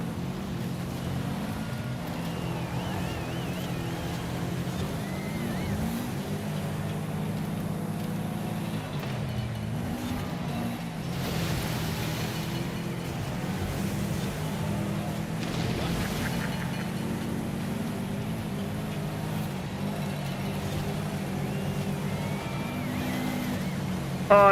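A car engine in the Forza Horizon 5 racing game drones steadily under a low, continuous rumble, rising and falling slightly as it revs, with a faint voice now and then.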